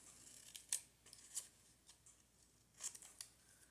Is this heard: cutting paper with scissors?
yes